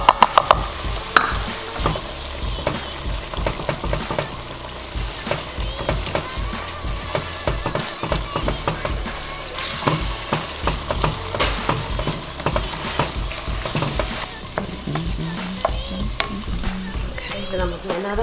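Roux of flour and fat cooking in a pan for crawfish étouffée gravy, a steady loud sizzle with continuous scraping and stirring strokes throughout.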